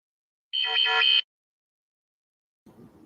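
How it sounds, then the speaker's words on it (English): An alien-themed phone notification chime rings once, a bright buzzy electronic tone lasting under a second, followed by silence and then a brief low murmur. "that's my alien notification telling me that you sent me a message"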